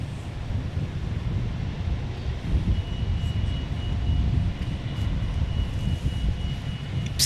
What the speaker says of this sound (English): Delta Airlines taking off on a 737